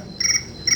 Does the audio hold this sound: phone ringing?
no